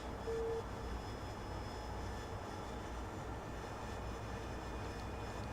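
Harrier jet in a video game roaring steadily as a continuous broadband engine drone, fairly constant in level with no talk over it.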